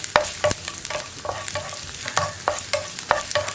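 Small garlic cloves and chopped ginger frying in a pan for a grape chutney: a soft steady sizzle broken by repeated sharp scrapes and clinks of stirring, fairly close and with no voices.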